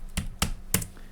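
Three sharp key presses on a computer keyboard while entering shortcuts, quick clicks spaced evenly at close range, followed by a brief quiet tail.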